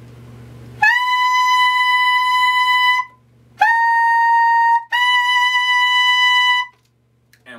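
Saxophone holding a high altissimo G sharp in three sustained notes, the first long, then a shorter one and a third, each with a bright, steady pure tone and brief gaps, played close up with no talking.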